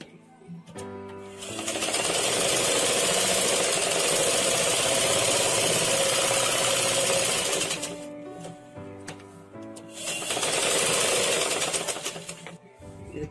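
A sewing machine stitching cloth runs in two steady, loud whirring bursts, each several seconds long, with short quiet pauses and clicks between them and no talking.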